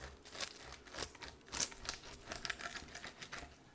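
Knife blade cuts through crackling porchetta skin in a series of close, crisp crunches and crinkles, irregular and bread-like, with no talking.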